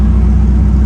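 A 1973 Ford Torino with an LS engine swap creeps along in stop-and-go traffic, its engine a steady, loud low rumble idling close by with no break.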